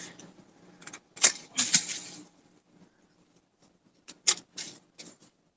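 Pruning shears snipping tree branches in a garden, a few sharp crisp cuts in two short clusters, close and fairly quiet, with soft rustling between and no talk.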